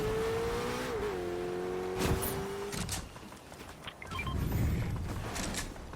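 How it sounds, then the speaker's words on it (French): A car starts off and drives away in the video game Fortnite, a steady engine tone holding for a few seconds and then dropping into rougher game noise and rumble, fairly loud throughout. "Donc on va partir en voiture."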